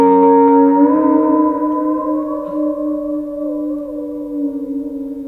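An electric guitar sounds a ringing harmonic at the 12th fret, then the whammy bar raises its pitch in a smooth upward bend as the tone sustains and slowly fades, alone and close.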